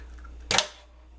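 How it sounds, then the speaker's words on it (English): A single sharp crack as an egg is struck open for carbonara, one brief bright snap in a quiet kitchen with a soft tail of shell and liquid after. "My grandsons love the way I crack my eggs"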